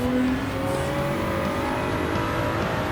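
A Gr.3 race car in Gran Turismo 7 at the Daytona road course accelerates in third gear, its engine note climbing steadily in a loud, continuous drone with no pauses.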